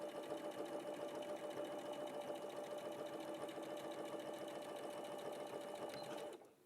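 A sewing machine runs over a tacked seam at normal stitch size, a continuous close mechanical whir with a fast rhythmic tick that stops abruptly just before the end.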